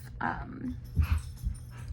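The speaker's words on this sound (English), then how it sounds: "I'm sorry if you can hear the dogs. They're playing too. They've got the zoomies." Dogs romp with the zoomies in the background, scuffling with low growls, thumps and whimpers, moderately loud and irregular while someone talks nearby.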